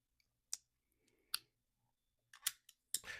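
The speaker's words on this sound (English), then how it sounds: "taking off his glasses" Glasses being taken off, giving a few sharp, close clicks in quiet, spaced irregularly over a few seconds.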